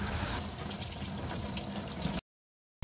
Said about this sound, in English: Through the coolant reservoir, we're going to introduce some hose water, and with our collection buckets below the vehicle, we're going to help flush out any contaminated coolant